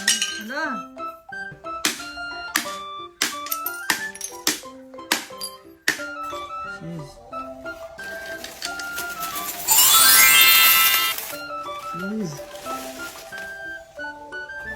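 Coins clink and jingle as a piggy bank is opened and emptied, sharp metallic taps and chimes scattered throughout, with a dense rattling cascade of coins pouring out near the middle, loud and close.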